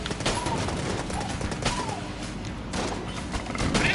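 Rapid gunfire in the dungeon shooter Enter the Gungeon, a dense, continuous stream of overlapping shots and impacts that stays loud and steady throughout with no pauses.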